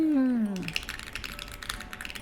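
Quick, soft clacking of a mechanical keyboard with Black Reaper switches starts up just as a voice trails off at the start, then runs as steady close typing.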